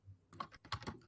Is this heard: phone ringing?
no